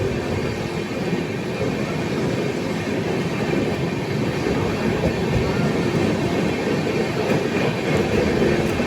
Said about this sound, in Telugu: భద్రాక్ నుంచి బయలుదేరింది బండి.